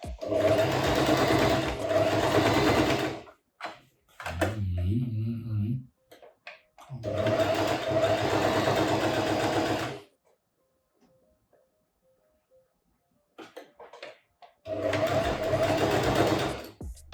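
Sewing machine stitching fabric, run blind by a fashion designer in three long loud bursts with pauses between, a short bit of other sound in one gap.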